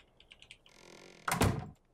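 A door in the ARK survival video game banging shut, with a single heavy thunk after a few faint clicks and a brief sliding rustle.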